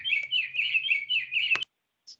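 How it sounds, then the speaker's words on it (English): A bird clock chimes its bird-song call during an online board meeting: a bright, warbling trill runs steadily for about a second and a half, stops abruptly, then a brief faint chirp follows alone. "I was muting the dumb bird clock."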